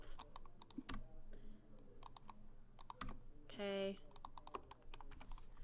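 Quick bursts of computer keyboard typing as commands are entered in AutoCAD, clustered taps and key presses spread across the moment with a brief spoken word partway through.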